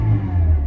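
A Peugeot 207 bought from auction idling just after start-up, a loud, close, steady low engine rumble with a faint mechanical clatter, no talk.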